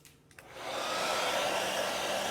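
A few small clicks, then a hair dryer switches on and ramps up to a steady, loud whoosh of air aimed at a chalk design, running on without any voices.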